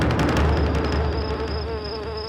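A loud, close, continuous insect buzz, steady and slightly wavering, heard alone at night for a couple of seconds.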